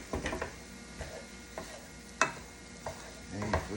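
Red cabbage being stirred in a cooking pan, with repeated scraping and clattering strokes at an uneven rhythm over a soft, steady sizzle, close and fairly clear with no talking.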